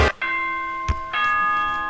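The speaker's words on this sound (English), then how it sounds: "Alright, ding dong bing bong." A ding-dong announcement chime from the game Danganronpa, with two bright sustained bell tones separated by sharp knocks, close and loud, no talk.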